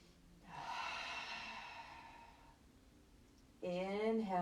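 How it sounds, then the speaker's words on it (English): A long, audible exhale breathed deeply through the body during a gentle yoga session, soft and close, followed by a short spoken voice. "Nice deep breaths."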